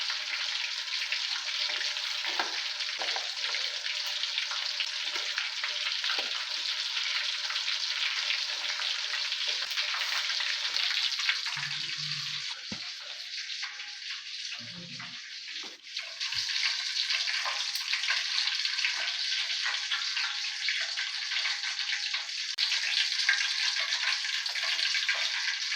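The last batch of chicken drumsticks fries in hot oil, giving a steady mid-level bubbling sizzle with a brief dip and a couple of faint clinks partway through, and no voices.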